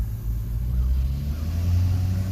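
A car drives across an earthen dam at a state park lake, its engine a steady, close low rumble with road noise that holds throughout and swells slightly near the end.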